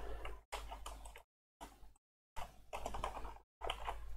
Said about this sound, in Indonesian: Kita ketik dengan cepat aja